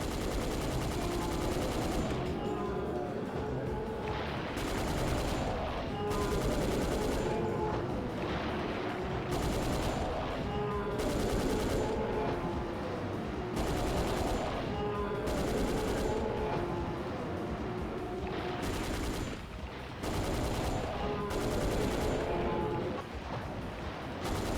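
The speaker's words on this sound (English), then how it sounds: "This is the best gun ever put in a video game." Rapid, continuous gunfire from a weapon in the video game Dino Crisis 2, loud sustained bursts of automatic shots broken by brief pauses, heard alone with no talk.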